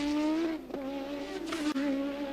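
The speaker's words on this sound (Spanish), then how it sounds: "El sonido era del auto de Nelson Piquet." Nelson Piquet's Formula 1 car at the 1983 French Grand Prix, its engine holding a steady high-pitched racing whine with a brief dip mid-pass, loud and close, with no talk.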